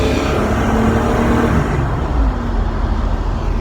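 Engine of a 1970 Chevrolet Nova revving as the driver gives it a little gas while turning, a steady loud rumble mixed with road noise that eases slightly toward the end.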